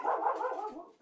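A dog gives one short whining, yelping bark up close, then goes quiet.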